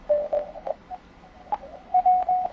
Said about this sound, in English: Turn back on automatic noise reduction, and you can see the background noise practically disappears, and all I hear left is the CW tones